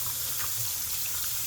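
Tap water running steadily to rinse soap out of a Dyson Airwrap filter, a close, continuous hiss of splashing flow with no talk.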